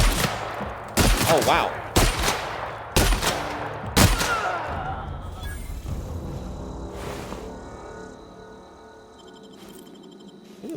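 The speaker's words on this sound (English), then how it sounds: "Here you go! Shotgun to your face!" Five loud, evenly spaced shotgun blasts from the video game The Outer Worlds boom out about a second apart, followed by fading electronic tones and game ambience, with a short exclamation spoken between shots.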